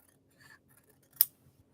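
Scissors cutting kimono fabric for purse interiors: a couple of sharp, close snips with soft rustling between them in an otherwise quiet room.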